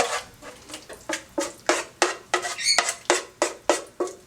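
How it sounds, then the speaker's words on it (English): Butternut squash and cheese mixture scraped and spooned onto cooked pasta in a large bowl, making a steady run of close, wet, rhythmic scraping and squishing strokes about three per second, with no voice. "We're going to add our squash and cheese mixture."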